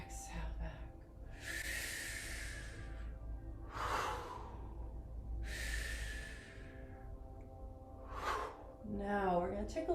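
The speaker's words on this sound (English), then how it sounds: "Inhale up, exhale back." Slow, audible yoga breathing, long airy inhales and exhales repeating about every two seconds, close and soft over a low steady background hum.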